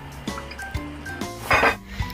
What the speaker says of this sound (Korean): 프라이팬에 물을 1cm 담고 유리병을 거꾸로 엎어서 뜨겁게 김을 쏘입니다